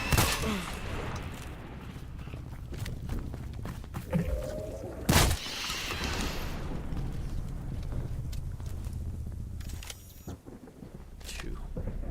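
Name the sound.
shotgun firing in a video game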